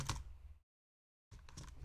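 Rapid clicking keystrokes sound on a wireless computer keyboard, a brief burst of typing, then a short dead silence, then a second burst of clattering keys.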